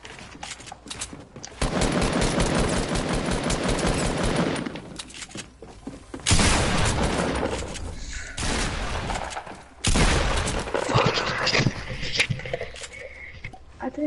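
Video game gunfire rips out in loud, dense automatic bursts, each lasting a few seconds and separated by short pauses, with clatter close up and no talking.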